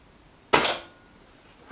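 A single sharp crack from a Reximex Ixia air rifle, close and loud, with a quick fading tail and quiet before and after.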